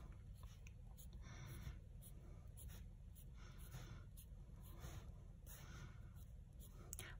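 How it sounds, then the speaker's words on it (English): Pencil drawing a small fence on paper: steady, soft scratchy strokes in repeated short bursts, close and quiet, alone against a faint background hiss. "So I'm drawing my little fence."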